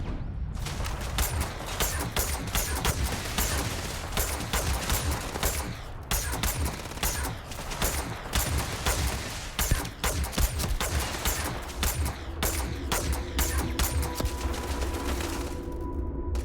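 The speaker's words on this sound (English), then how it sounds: "Is that turret still going?" Turret fire in Starfield keeps going in dense, rapid automatic bursts, loud and steady throughout with brief gaps, plus some mechanical clatter near the end.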